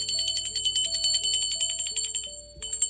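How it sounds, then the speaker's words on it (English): A bell rung by a tarot reader gives rapid, repeated bright metallic strikes with a shimmering ring that lingers between hits, clear and close, pausing briefly near the end before sounding again. "I'm going to ring the bell for my spirit guides, guardian angels, and ancestors"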